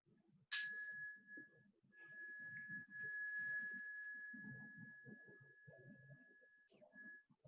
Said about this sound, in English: And once again, the chime.